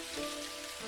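Steady rain in the video game Dinkum on a spring day, a dense, even hiss of drops on surfaces heard alone for a brief moment.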